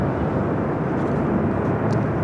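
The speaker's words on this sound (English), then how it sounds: "That was a Southwest flight arriving on 24 right." A Southwest Boeing 737-800 arriving from Phoenix lands on runway 24 right at Los Angeles International Airport, a loud, steady broadband jet roar holding constant throughout with no talking.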